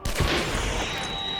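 A sharp explosive gunshot blast from explosive ammunition in Hunt: Showdown, one loud close report followed by a long rumbling, echoing tail.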